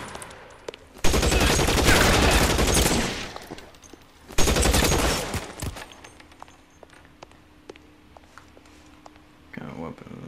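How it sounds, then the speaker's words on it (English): Shotgun fire in the video game L.A. Noire arrives as two loud bursts of rapid gunfire, each lasting a couple of seconds, with quieter scuffs and clatter between and after them. "A shotgun? I heard that."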